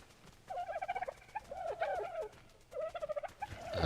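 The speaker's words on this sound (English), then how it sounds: "All our dodos are doing good." Several bouts of warbling, gobble-like calls come from dodos in the survival game Ark Survival Evolved. They sound fairly close and arrive in rhythmic pulsed phrases separated by short quiet gaps.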